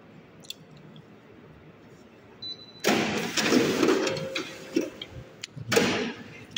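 A Toshiba e-STUDIO 2020ac photocopier running, a quiet hum that gives way to a louder mechanical whir with clicks and rattling as it feeds and copies, close by.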